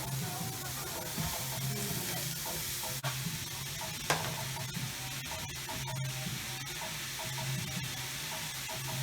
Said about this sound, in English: going to be cooking up some leeks with a little bit of garlic